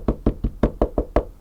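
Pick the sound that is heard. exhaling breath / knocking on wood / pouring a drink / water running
knocking on wood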